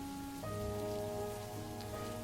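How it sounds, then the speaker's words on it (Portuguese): Steady rain falls at night in Pirituba, a soft continuous hiss with a low hum and tonal lines running beneath, no voices present. "Ouvia a chuva cair"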